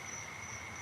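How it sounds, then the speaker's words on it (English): Crickets and tree toads trill outdoors at night, two steady high-pitched continuous chirring tones, faint and distant, with no voices. "tree toads, as well as crickets"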